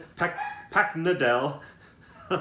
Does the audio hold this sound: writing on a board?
no